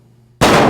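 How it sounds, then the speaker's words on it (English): Near silence breaks into a sudden, very loud blast of gunfire that stays at full force until the sound cuts off a moment later. "All he has to do is lean out and then engage with 2 or 3 rounds."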